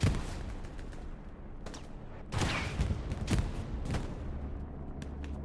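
Bombing-run explosions in the World War II shooter Hell Let Loose on the Stalingrad map: several heavy, distant blasts and bursts thud out across about five seconds over a rumbling battlefield backdrop, with no talking.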